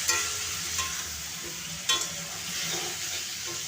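Vegetables and dal stirred in a pan, a continuous sizzling scrape with a couple of sharper spoon knocks, close and steady throughout.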